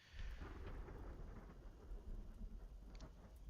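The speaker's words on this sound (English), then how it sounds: "other than the crackle of the fire that happens, the bolt of lightning that happens" A lightning bolt's thunder rumbles low and continuous beneath steady rain, a dense stormy roar with no voices.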